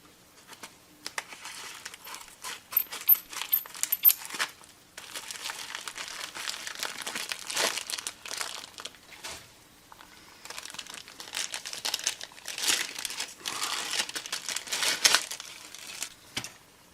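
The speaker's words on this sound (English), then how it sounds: "I'll see if we can open this package without cutting." Crinkly plastic mail packaging being torn and pulled open by hand without any cutting, with near, continuous rustling and crackling that has short pauses, and no voices.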